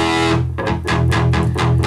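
A deep, distorted electric guitar note on the low E string, played through a powered PA speaker used as a guitar amplifier, rings out, struck again several times in a steady rhythm, thick and loud with a heavy low end.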